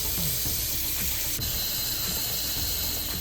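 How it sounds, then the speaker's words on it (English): Water running steadily into a saucepan for salted pasta water, a continuous close splashing and hissing stream with no pauses. "With our saucepan, we're just gonna add water, heavily salted, and bring it to a boil."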